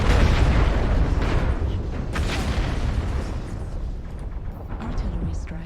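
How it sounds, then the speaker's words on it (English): Artillery strike explosions in MechWarrior Online, a loud rolling barrage of heavy booms and rumbling blasts with a few sharper bursts, continuous throughout and mixed with game sounds. "Artillery strike"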